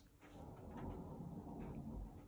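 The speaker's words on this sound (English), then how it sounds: "oh my god, that's thunder." Distant thunder rolls as a low, sustained rumble that swells and lingers over a couple of seconds. It is faint and heard from indoors, with no talking.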